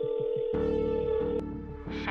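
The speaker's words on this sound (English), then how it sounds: "I dialed Priya, my hands shaking as I held the phone" A telephone being dialed: a short series of electronic tones, then a steady sustained tone with a layered buzzing pattern that shifts near the end, close and clear.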